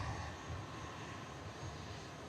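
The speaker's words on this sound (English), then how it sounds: "the Pilatus PC-12 we saw arriving earlier, heading now out to Farnborough" A Pilatus PC-12 turboprop departs Manchester Airport for Farnborough, a steady distant engine drone and rumble holding level throughout, faint and alone without talk.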